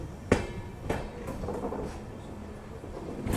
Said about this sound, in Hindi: ईदगाह आगरा जंक्शन से अपनी ट्रेन का डिपार्चर हो चुका है।